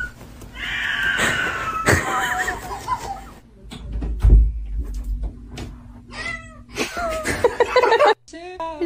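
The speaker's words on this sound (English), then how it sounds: "Is that cat okay?" A cat meows and caterwauls in repeated drawn-out, wavering cries, loud and close, with laughter and speech from people nearby.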